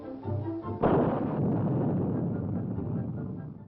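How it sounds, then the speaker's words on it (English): A Bomarc ground-to-air interceptor missile fires from its launcher with a sudden roaring blast that follows a brief quieter stretch, then sustains a loud, broad, rushing roar that slowly fades as it climbs away. "The Beaumark climbs skyward from its launcher."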